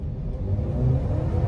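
Mercedes-Benz GLB 250 with a dual-clutch transmission accelerating gently from inside the cabin, a steady low engine drone and road rumble that builds slightly as the revs rise, with no talk.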